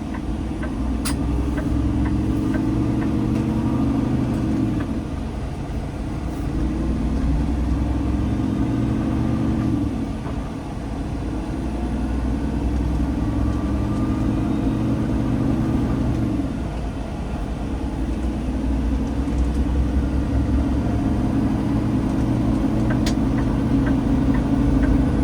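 A 2024 Peterbilt 389 log truck driving down the road, its engine a steady, loud low rumble that swells and eases slightly through gear changes, with a faint ticking over the top and no talk.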